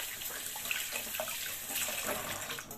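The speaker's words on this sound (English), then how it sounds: "Let me just wash my hands again." Kitchen tap water runs steadily into a sink while hands are washed, a continuous close hiss and splash with small shifts in the flow and no talking.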